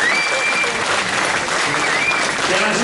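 A crowd in Ambelokipi applauds Greek Prime Minister Kyriakos Mitsotakis, with steady, dense clapping that holds at an even level throughout.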